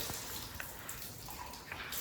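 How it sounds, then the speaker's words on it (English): Running water splashing over hands at a mosque wudu washing area, a steady faint faucet stream with small drips and splashes throughout. "I can wash my hands."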